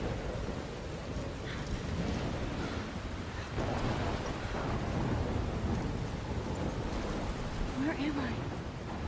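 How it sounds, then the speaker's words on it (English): Stormy weather in the video game Life Is Strange: steady rain hiss with low rolling thunder rumbles throughout, a continuous loud wash with no clear pauses. "I'm trapped in a storm."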